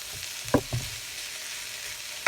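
Onions, cabbage and garlic frying in sesame oil, a soft continuous sizzle broken by a few sharp clacks of a utensil stirring the pan, with no talk.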